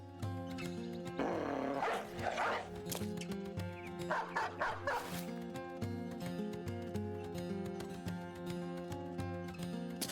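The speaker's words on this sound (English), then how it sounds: "We still have the dog though." A dog in the video game Battle Brothers barks repeatedly in short bursts over continuous game music, with busy combat sounds around it.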